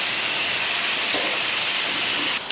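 Ginger, cumin, cut dried chillies and asafoetida powder sautéing in hot oil, a steady loud sizzling hiss throughout with faint stirring underneath.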